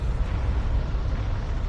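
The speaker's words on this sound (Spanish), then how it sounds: "La erupción del monte Tambora, situado en la isla indonesia de Sumbawa, es la mayor jamás registrada." A huge volcanic eruption of Mount Tambora on Sumbawa, Indonesia, with a continuous deep rumbling roar and dense low-end turbulence that holds steady and loud throughout, with no distinct separate blasts.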